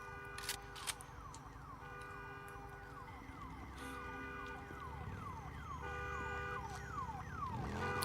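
Car alarm in a video game, its warbling, repeating electronic tones sweeping up and down in a steady cycle, moderately close and gradually louder, with low rumble beneath and no talking.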